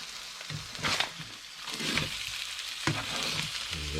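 A bass fillet, winkles and an egg omelette fry together in a pan, giving a steady close sizzle broken by a few soft stirring scrapes, with no voices.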